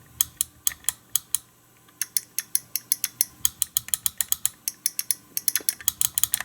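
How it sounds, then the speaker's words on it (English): Schindler elevator push buttons clicked repeatedly by hand, a crisp close series of sharp clicks in an uneven rhythm that speeds into rapid runs, with a brief pause near the two-second mark. "this one is more of a firm, kind of solid on-off click. And this is more of a lighter, like less solid kind of click."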